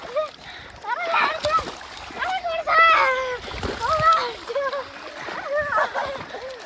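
Water splashes and splatters as someone bathes outdoors in a village, with repeated wet bursts heard beneath excited chatter from several nearby voices, including children.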